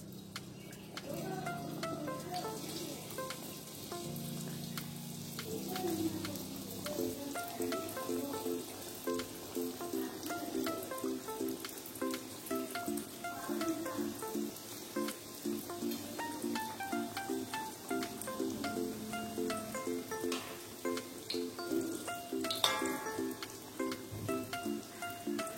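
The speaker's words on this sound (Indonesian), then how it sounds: "Saya akan goreng menggunakan api sedang biar cepat hangus ya." Roti goreng dough frying in hot oil over medium heat gives a steady close crackling sizzle that runs throughout, with faint stirring and clinks and no talk.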